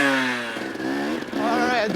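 A Highland Cycles motorcycle fitted with a new XTNG carburetor revs at low RPM on the Peach Valley trails, a close, loud buzzing engine tone that rises and wavers.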